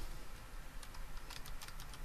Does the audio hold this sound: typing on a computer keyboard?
yes